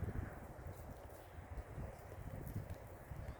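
Steady outdoor wind from the north, a low buffeting rumble against the microphone with rustling gusts throughout, no voices.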